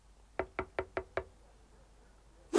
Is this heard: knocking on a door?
yes